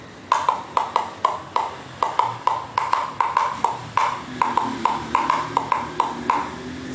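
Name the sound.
recycled PET bottle sound block instrument being played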